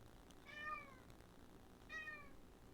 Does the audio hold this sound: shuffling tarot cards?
no